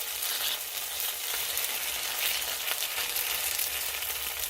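Squash pancake batter frying in oil in a pan over medium heat, a steady bright sizzle with fine crackles that stays even throughout, close and without talk.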